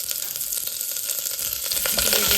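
Onions sizzle loudly in ghee with cloves, cardamom, ginger, garlic and chillies, a dense, steady crackling fry that grows slightly stronger toward the end.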